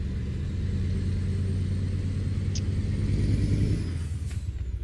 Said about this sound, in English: Downshifting.